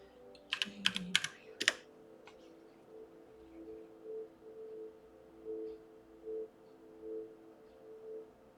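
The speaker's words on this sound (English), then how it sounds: "I typed in JDW" Quick bursts of computer keyboard typing, several clustered keystrokes in the first two seconds, followed by a quiet room with faint background hum and no talking.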